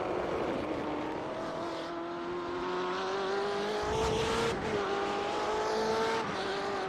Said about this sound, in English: Let's pump up the volume here on these cars.